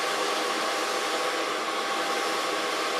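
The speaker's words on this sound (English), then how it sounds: "Start blow drying at the long side in the underlines" A hair dryer blows steadily and loudly throughout, drying long hair at home section by section, a continuous broadband whoosh with no pauses and no talking.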